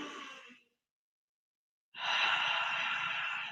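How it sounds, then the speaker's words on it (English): A slow, deep breath is drawn in and released in a long exhale, close and soft, with a brief silent pause between the two breaths. "Take a nice deep breath."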